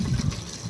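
Water pours out at once onto two trees in an outdoor garden, giving a short gushing, splashing rush that is close and fairly loud.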